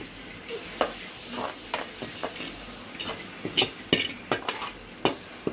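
Spoon stirring a seasoned rice mixture in a pan, with irregular scraping clinks of utensil against metal over a faint frying hiss, close and fairly loud.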